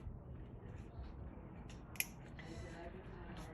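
One sharp snip from small cutters clipping a piece of 18 karat gold solder at a jeweler's bench, a single crisp click against a quiet background hum.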